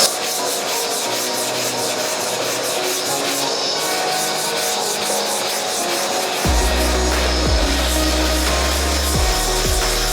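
Steady abrasive rubbing of a sanding block over polyester filler on a 1971 Chevrolet Camaro body, continuous close scraping strokes with a heavier low rumble joining partway through, no talking.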